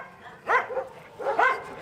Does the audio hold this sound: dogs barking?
yes